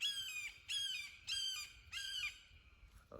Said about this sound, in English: This hawk is really pissed off for some reason.